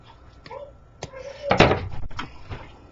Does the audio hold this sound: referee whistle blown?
no